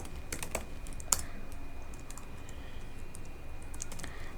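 Fingers tap steadily on a computer keyboard while HTML table code is typed, a quick irregular run of close, crisp key clicks with one louder stroke and no talking.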